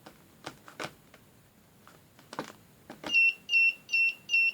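Security system alarm beeping after a door or vibration sensor triggers: four loud, evenly spaced electronic beeps close by, following a few scattered knocks and handling clicks.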